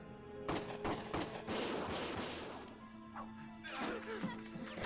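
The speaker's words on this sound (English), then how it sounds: "Gunfire!" Bursts of rapid gunfire in the video game Valkyria Chronicles crack repeatedly over a sustained roar of battle noise, with a lull midway before more shots erupt near the end.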